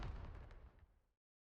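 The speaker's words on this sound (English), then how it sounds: "Incoming fire." One heavy blast of gunfire or explosion in the video game Nikke, loud and close with a booming low end that tails off quickly into silence.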